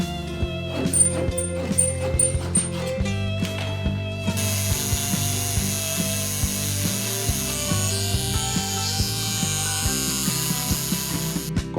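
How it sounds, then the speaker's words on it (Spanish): A small walnut strip being cut into 12 mm pieces for a model ship, with a steady, close rasping and ratcheting cutting sound and repeated small clicks over music-like tonal background. "Y ahora de la misma pieza, del mismo listón, hay que cortar lo mismo, pero en este caso de 12 milímetros de largo."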